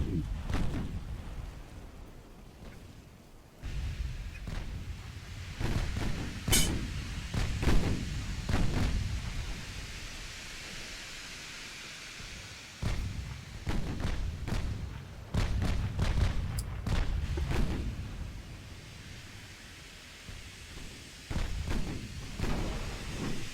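Naval gunfire in the warship strategy game Ultimate Admiral: Dreadnoughts: repeated heavy booms and thuds at irregular intervals, some sharp and near, others dull and distant, over a low rumbling background.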